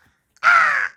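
A person imitates a crow's caw with a single loud, harsh, sustained call of about half a second, close and clear with nothing else behind it.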